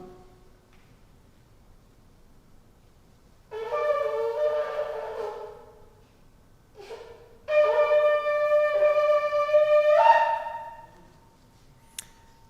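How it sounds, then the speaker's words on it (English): A shofar blowing teruah on Yom Kippur in a congregation, sounded as a first long wavering blast, then a brief pause and a second sustained, strongly harmonic blast, loud and alone in a quiet room. "Nine short staccato blasts this time."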